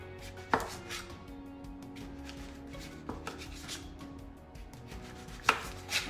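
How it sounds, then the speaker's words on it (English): A few sharp knife chops cutting half-inch slices of butternut squash on a cutting board, spaced irregularly, close and fairly crisp over a low background hum. "So now that it's flat, I am going to cut half-inch slices."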